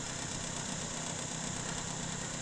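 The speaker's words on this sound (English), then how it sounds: "Poor little pump." A small pump emptying a filter housing runs with a steady, close motor hum and buzzing vibration, unbroken and even in level, with no voices.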